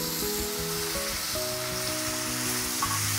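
Four chopped tomatoes sauté in a kadai with ginger paste for tomato rice, a steady close sizzle with scraping stirs of a large spoon throughout, no talking.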